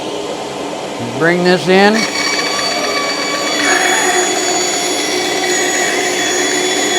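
Bandsaw with a 1/4-inch blade runs steadily while cutting plywood in a circle-cutting jig, a loud even machine whine that holds throughout, with someone speaking briefly over it near the start.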